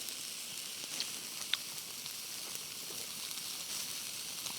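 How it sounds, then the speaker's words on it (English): Steaks sizzle over an open campfire in a snowy Arctic forest, a steady crackling hiss with occasional small pops, close and even throughout. "Steaks cooked over the fire"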